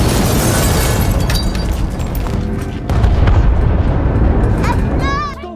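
A German bomb attack during the Second World War brings heavy, rumbling blasts and continuous booming in a loud, dense roar, with a voice talking over it.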